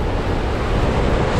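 Ocean waves churn around the World Navigator cruise ship sailing through Antarctic waters, a continuous loud roar of surf and wind buffeting the microphone with no pauses.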